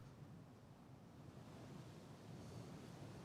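Slight ocean waves and a gentle breeze wash steadily on an overcast morning at sea in the naval game Ultimate Admiral: Dreadnoughts, a soft continuous rushing with no distinct events.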